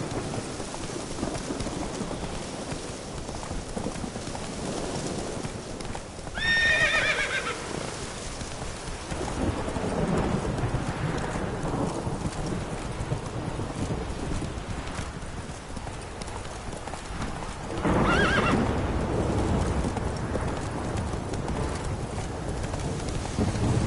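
Geralt's horse Roach in The Witcher 3, with steady galloping hoofbeats in the rain and two short whinnies breaking through, the second near the end, all over a constant wash of rainfall.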